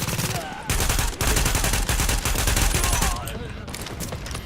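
An RPK light machine gun in a video game rattles off long sustained bursts of rapid, loud automatic fire, with brief pauses between strings of shots and a quieter tail at the end.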